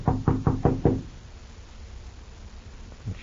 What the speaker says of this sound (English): I'll knock first, just to make sure.